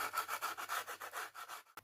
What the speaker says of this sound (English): I'm just going to sand all of the edges so that I can get them as nice and smooth as possible.